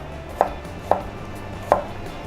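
A sharp chef's knife chops through an onion on a cutting board, three separate crisp chops spaced about half a second apart, close and clear with no talking.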